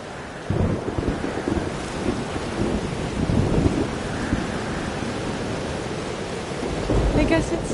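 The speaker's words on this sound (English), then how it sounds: "Weather's worse than I remember it. Storm followed me." Thunderstorm in the video game Life Is Strange: Double Exposure: steady heavy rain hiss with deep rolling thunder rumbles swelling throughout, loud and continuous, with no speech over it.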